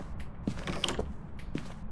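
A creaking door in the Phasmophobia video game, touched by a ghost, a brief close wooden creak and mechanical groan over a low background hum.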